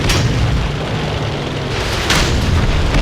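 A tank's main gun firing in a video game, a loud booming blast with a heavy rumbling tail, followed by a second burst about two seconds in.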